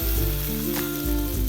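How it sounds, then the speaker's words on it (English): Dry red chilies and hing crackle in hot tempering oil for a raw mango dal, a loud, close, continuous sizzle with a brief stir in the middle. "Mix them and fry. Add 5 to 6 dry red chilies."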